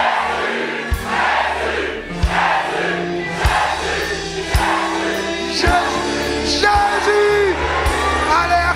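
A church congregation shouts the name Jesus over and over in loud, rhythmic group yells, with a sustained chord from an organ or keyboard underneath.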